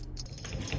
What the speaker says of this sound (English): Might be a bit of a battle getting through all these keys we got to dig through here.